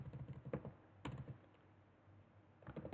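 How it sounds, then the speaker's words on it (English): Someone types on a computer keyboard in quick close bursts of clacking keys, pausing briefly between bursts, with no talk. "Let me type like Iron Man."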